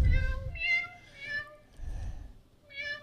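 Several separate cat meows played back from an iPad app come in a loose rhythm, each a clear, close tonal cry, with low rumbling handling noise beneath the first and middle ones.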